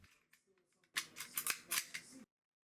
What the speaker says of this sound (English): The slide then slides onto the frame